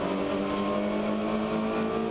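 Honda Civic touring race cars on a circuit's main straight, a loud sustained engine howl with steady high tonal harmonics, close and continuous throughout.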